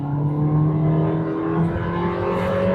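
A Volkswagen Nivus GTS accelerates at full throttle, engine drone steady and loud with a rising tone, heard from inside the car.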